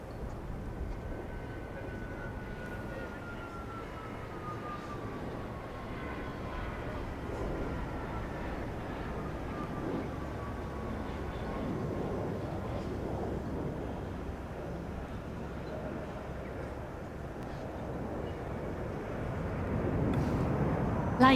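A Dassault Falcon 8X business jet flies a display at the Paris Airshow, a steady distant jet roar with a faint whine sliding downward, swelling slightly near the end.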